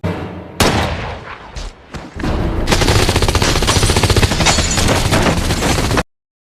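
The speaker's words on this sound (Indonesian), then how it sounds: "Jim mencoba menyelesaikan masalah yang ada dengan menembak satu persatu anak buah Guerrero." Gunfire in an action film about a Mexican drug cartel: a few isolated loud shots, then a sustained rapid automatic burst that runs for several seconds before cutting off abruptly into silence.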